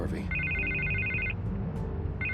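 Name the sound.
telephone ringing in the video game Batman: The Telltale Series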